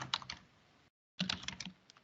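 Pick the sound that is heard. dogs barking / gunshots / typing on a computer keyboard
typing on a computer keyboard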